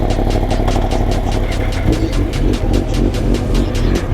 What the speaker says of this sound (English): I think the GSXR's a little bit louder than yours at idle